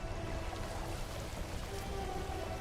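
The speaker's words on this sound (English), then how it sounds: "God, how long is this storm gonna go?" Steady rainstorm in the video game No Man's Sky, a constant hiss of rain with soft patter and faint tonal game sounds underneath.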